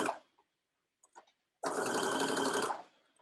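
A sewing machine stitching over the area of a pant welt pocket at a long stitch length, with a few faint clicks and then one steady mechanical whir for about a second before it stops.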